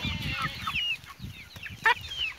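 Young Brahma chicks and chickens cluck and peep repeatedly at close range, a busy run of short calls and chirps with one louder squawk near the end.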